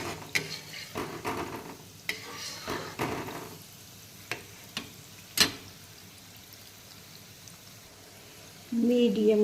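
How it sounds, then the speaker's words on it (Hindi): Suji gulab jamun balls fry in hot oil with a soft, steady sizzle. A spoon clinks and knocks against the pan as they are stirred, and a brief voice comes in at the very end. "ऐसे घुमाते हुए हम सुनहरा होने तक तल लेते हैं।"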